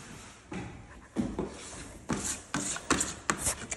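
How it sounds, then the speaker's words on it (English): Drywall joint compound is scraped down inside a 10-inch Tape Tech taping box: a series of rough rasping strokes, about eight in quick succession, close and growing slightly louder, with no talking. "So I'm scraping all the mud down."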